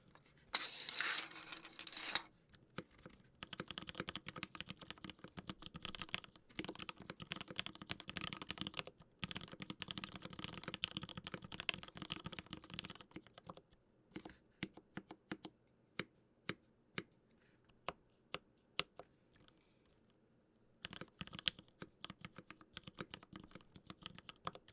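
Close-up typing on a computer keyboard, with bursts of rapid clicky keystrokes broken by pauses and scattered single taps, steady and near with no voices.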